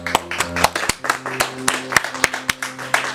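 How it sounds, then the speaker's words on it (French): A standing church congregation claps and cheers for Jesus at a French-language service, with brisk, steady rhythmic handclaps close by and voices mixed into the clapping. "Est-ce qu'on peut se mettre debout et acclamer pour Jésus?"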